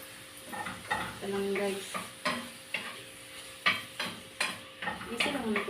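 Pork and Baguio beans fry in a pan with a steady sizzle, punctuated by repeated scraping stirs and clinks of a utensil against the pan, close and fairly loud, with a brief spoken line over it.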